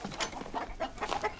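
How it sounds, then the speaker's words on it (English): A chicken clucking in a wartime scene, several short, close, agitated clucks in quick irregular bursts with no talk over them. "You grab the chicken and I'm gonna grab the eggs. Yeah, great. Just grab him by the foot. Come on, chicken."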